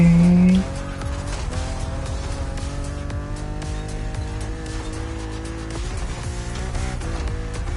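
A BMW Z roadster races in the driving game The Crew Motorfest, its engine droning steadily and loudly with bursts of tire squeal throughout.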